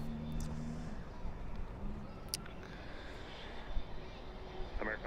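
A Turkish airliner taxis at night at Dallas/Fort Worth airport, giving off a steady broadband jet engine rumble and whine that stays constant throughout, with faint background sounds.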